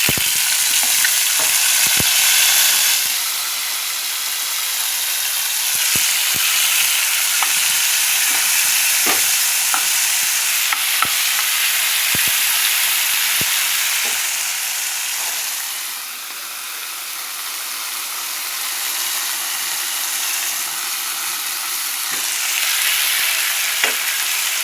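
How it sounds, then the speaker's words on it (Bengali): Bitter gourd (karela) fries in a pan at a home stove, giving a loud, continuous sizzle that rises and falls slightly. Sharp ticks and clatters of stirring recur throughout. "ততক্ষণে আমি তোমার এইদিকে করলাটা ভাজি"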